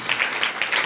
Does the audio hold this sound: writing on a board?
no